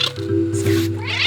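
A cartoon cat in the puzzle game A Little to the Left meows loudly and drawn-out, a single whiny call filling the moment.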